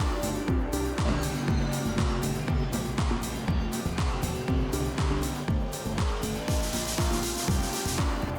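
Aston Martin race cars in the Assetto Corsa racing game dueling closely, engines revving up and down through repeated gear shifts, loud and continuous with overlapping engine notes.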